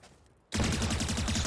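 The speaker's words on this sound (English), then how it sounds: "So we use 22 bullets in our Phantom" A Phantom rifle in Valorant opens up suddenly after near silence, a loud, fast automatic burst with rapid evenly spaced shots that continues to the end.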